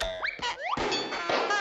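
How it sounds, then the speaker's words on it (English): A cartoon ball bounces in a series of springy, boing-like hits with rising pitch sweeps, loud and close, with a busy musical bed running underneath and no voices. "No, the ball bounces"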